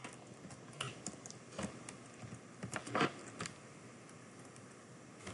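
Quick bursts of typing on a computer keyboard while writing code, clustered key clicks with short pauses in between, close and fairly quiet, with no voices.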